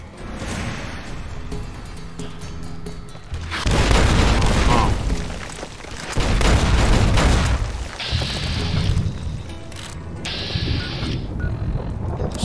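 Gunfire and explosions in Fallout: New Vegas's Lonesome Road, with plasma mines about: loud rumbling booms and bursts of shots that swell and fade in waves, with a voice talking over parts of it.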